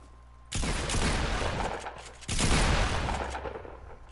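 Gunfire in the video game Fortnite Battle Royale erupts in two loud, dense bursts of rapid shots, each starting abruptly and tailing off, with a brief lull between them and no speech.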